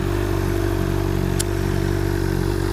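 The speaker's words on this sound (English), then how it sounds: "I like that this bike doesn't just do loud. It makes a really pretty nice noise." A 2007 Honda CBR600RR at a steady idle, its engine and exhaust giving a close, loud, even burble with a faint clattering texture throughout, no voices over it.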